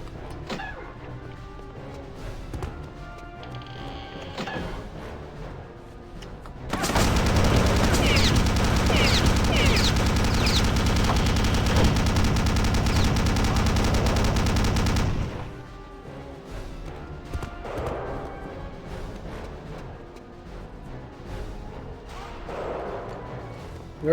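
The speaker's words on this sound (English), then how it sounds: "Where are you shooting at me from?" A long burst of rapid automatic gunfire in Return to Castle Wolfenstein, loud and sustained for about eight seconds, with quieter scattered shots and game sounds before and after.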